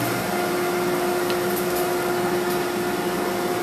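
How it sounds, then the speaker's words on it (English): Vacuum system of a ShopBot CNC router running as a loud, steady, continuous whoosh with a constant hum, close by and without talk. "first, I'm going to turn the vacuum system on"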